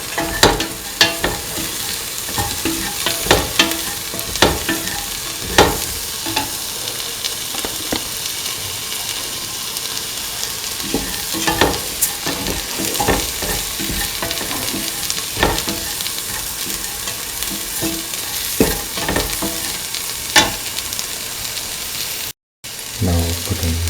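Spices being stirred into a sizzling frying mixture in a pan, with steady frying hiss and occasional spoon scrapes and clinks, close and continuous.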